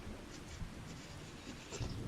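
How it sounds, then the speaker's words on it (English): Heavy rain pours steadily in Farming Simulator 2025, with low thunder rumbling beneath a dense, constant wash of noise and no talking. "That's a crap ton of rain."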